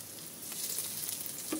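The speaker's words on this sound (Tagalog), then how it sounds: "Lagyan na po natin ang bawang." Garlic sizzles steadily in hot oil in a pan, a soft continuous crackle that swells slightly as the cloves go in, for a home-cooked chicken and tomato dish, with no talking.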